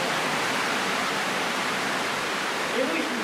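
Water rushes in a dark tunnel beneath Hot Springs, a dense, steady, loud hiss that fills the space without a break.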